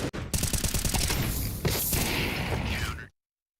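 Rapid automatic gunfire from a Counter-Strike 2 match, a dense burst of close, loud shots with mechanical clatter, running steadily before cutting off abruptly.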